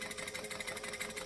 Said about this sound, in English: I can actually probably sew this easier if I just hold them as two separate things.